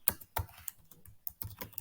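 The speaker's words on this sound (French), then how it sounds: "Il suffit de taper Entrée sur votre clavier" Crisp keystrokes on a computer keyboard, a handful of separate clicks and taps in an uneven rhythm, close and quiet, with no talk.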